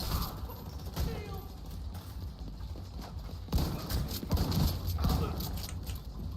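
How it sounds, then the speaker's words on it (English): Rhythmic footsteps thud in a video game, arriving as clusters of heavy impacts over a few seconds, fairly close and mid-loud against background game noise. "Wait, I hear more footsteps."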